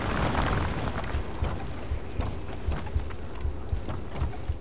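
Deep booms and rumbling blasts come from exploding enemies on bridges in Dark Souls II: Scholar of the First Sin. Repeated thuds roll under a dense, continuous din of game noise.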